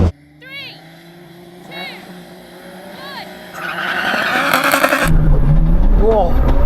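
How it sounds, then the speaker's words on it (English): A tuned race car launches hard in a drag race, its engine building to a loud roar with tire squeal as it pulls away, while voices talk over the idling and revving beforehand. "He had a good launch there, but this thing is so quick."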